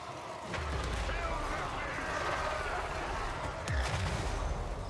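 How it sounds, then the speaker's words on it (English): Units in Total War Warhammer 3 fire at a giant spider, a steady roar of battle with rolling volleys and a couple of heavier booming impacts, with a voice talking over the din. "I'm gonna turn around and fire at that spider again."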